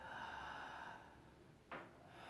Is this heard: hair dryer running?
no